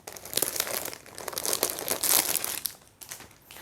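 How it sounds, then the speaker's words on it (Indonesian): Packaging crinkles and crackles while a BHS SGI silver songket sarong is unboxed, a dense run of close, busy rustling with sharp peaks and a short pause near the end. "Kita sekarang akan unboxing sarung ini ya"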